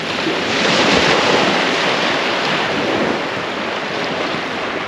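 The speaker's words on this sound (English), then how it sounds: "There's a lovely, really slight cool breeze just blowing down, and it's beautiful." A slight cool breeze blows along the Holderness sea coast at Hornsea, with steady wind rush and surf washing in continuously, loud and broadband with no voices.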